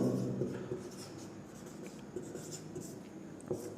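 Chalk or pen scratches steadily against a writing surface while a decimal number is written, a faint continuous rasp with small strokes and taps close by.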